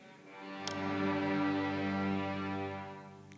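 An orchestra's strings together bow the low, sustained open G string, swelling in and holding evenly, then easing off; no talking.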